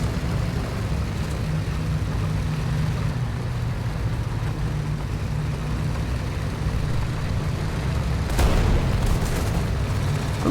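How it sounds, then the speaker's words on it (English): Gunfire and explosions in War Thunder, a desert tank battle, heard as a continuous low rumble with distant booms and a sharper blast near the end. "Who's shooting at me?"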